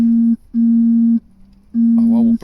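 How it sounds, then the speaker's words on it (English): A telephone rings in repeated long steady electronic tones separated by short gaps, loud and close, with a voice starting to speak over the last ring. "Sorry, the phone was ringing."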